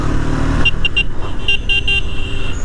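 A vehicle on a hill road in the Kolli Hills comes up loud and close, its engine rumbling steadily with a few short horn toots partway through.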